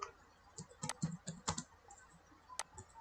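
Soft keystrokes on a computer keyboard typing a Python import statement in a Django project, a few scattered clicks in an irregular rhythm, quiet and close with no talking.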